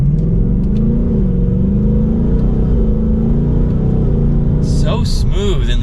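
A 2024 Ford Mustang GT Premium Performance V8 pulls hard, its loud, rumbling engine note climbing and easing through smooth gear changes, with a brief voice near the end.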